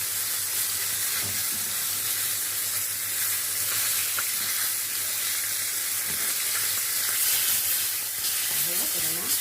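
Fish frying in hot oil gives a steady, dense sizzle and hiss throughout, close and continuous, with faint background sounds and no clear speech.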